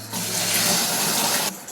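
Water pours steadily from a bathtub spout in a home bathroom, a loud continuous rushing splash that starts abruptly and cuts off near the end, with no voices over it.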